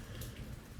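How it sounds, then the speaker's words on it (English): Steady rain falls and patters on surfaces at a garden or yard, a constant close hiss with no voices. "I'm so grateful for the rain"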